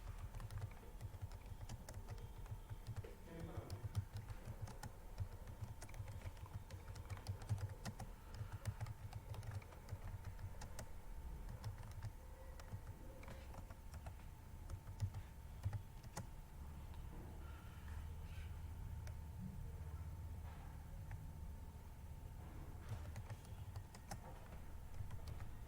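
Steady computer keyboard typing while text is entered in MS Word, a continuous quiet patter of key clicks with a low background hum throughout, no voices.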